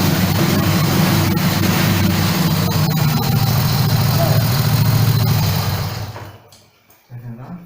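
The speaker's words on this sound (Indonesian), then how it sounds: "Kita nyalakan mesin, tidak perlu digas, langsung starter." Honda Grand motorcycle engine idling steadily after being started, a loud, close, continuous putter that cuts out near the end, with a voice speaking over it.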